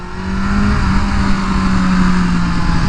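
A tuned BMW M1000R motorcycle engine revs steadily while being ridden, a loud, close, continuous drone with a rising then settling pitch and no talking.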